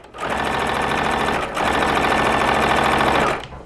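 A sewing machine stitches quilting fabric at a 2.5 stitch length, running in a steady, loud, close motor whir with a fast even needle rhythm, pausing briefly mid-run before resuming and then stopping.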